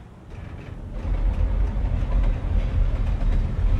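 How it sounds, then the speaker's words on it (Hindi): In Alan Wake Remastered, a train rumbles along a railway overhead, a deep, heavy roar that swells after a quieter start and holds as a dense, continuous low clatter. "डोंट वरी, ये रेलवे ऊपर से ट्रेन जा रही है"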